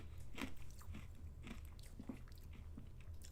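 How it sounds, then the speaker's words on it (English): Crunchy bites on ice cubes, several sharp crunches spaced about half a second apart, close and fairly quiet, with no talking. "I'm chewing on some ice"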